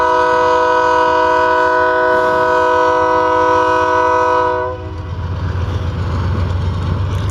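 Locomotive number 6730 sounds its very loud horn, a long sustained multi-tone blast close by that cuts off, followed by the rumble of a passing train of covered hopper cars.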